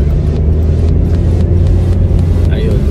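A car is being driven, giving a steady low engine rumble and road noise inside the cabin, loud and continuous, with a faint brief chirp near the end.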